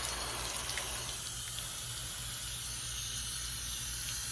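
A steady hiss of water sprays onto a hanging basket of staghorn fern packed with moss, as a continuous even spray with no talk over it.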